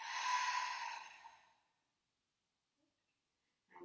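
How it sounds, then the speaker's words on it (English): A deep open-mouth exhale during a guided breathing exercise, one long breathy sigh up close that fades out over about a second and a half, followed by near silence. "Let's open your mouth and exhale"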